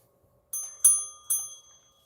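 A bright bell chime rings three times in quick succession, clear and alone, each strike ringing out with a short decaying tone against silence.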